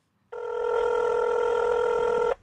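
A telephone rings once with a steady electronic tone lasting about two seconds before cutting off, clear and close, with no talking over it, at the start of a pre-recorded prank call.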